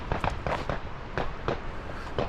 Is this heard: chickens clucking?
no